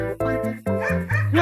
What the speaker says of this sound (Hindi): अरे गली का कुत्ता है, घबराओ मत, चलते रहो